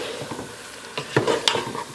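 Meat sautéing in a pot to render its fat, a steady sizzle with a few sharp scrapes and clinks of a utensil stirring against the pot.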